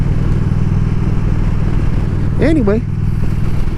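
A motorcycle engine drones steadily while riding, a close, even rumble that continues under a brief spoken word from the rider.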